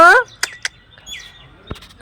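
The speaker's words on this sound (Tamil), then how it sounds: "இங்கே பாருங்களா, ஒரு மைனா இருக்குது." A myna on a rooftop terrace gives a few short, bright chirps and one rising whistled call after a brief voice at the start, fairly close and moderately loud.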